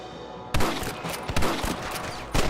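A burst of loud, close gunfire in the video game Red Dead Redemption, a rapid cluster of sharp shots with echoing tails starting half a second in and a final crack near the end, with no talk.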